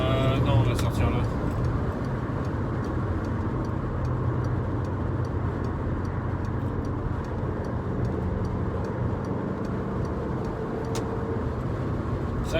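A Peugeot 307 with a 2-litre petrol engine accelerates, its steady engine drone and road noise heard from inside the cabin, with a brief voice near the start.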